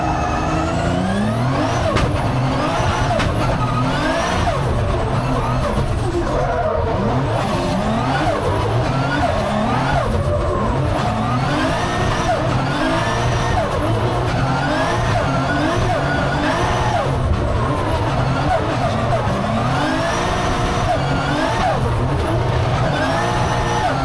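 A race car engine runs through a cool morning warm-up at the Calmont hill round, with loud continuous revving, rising and falling pitch and repeated blips filling the whole stretch, close and steady.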